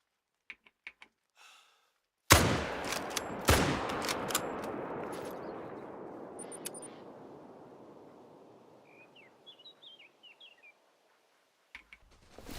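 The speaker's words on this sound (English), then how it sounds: "I guess I'm shooting a level 1 here" Gunshots at a boar in a Scottish hunting video game, one sharp loud rifle crack that echoes and decays for seconds, a second shot close after, with faint bird chirps and keyboard clicks around it.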